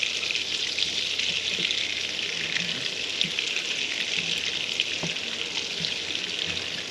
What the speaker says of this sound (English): you continue to stir so that you don't burn the butter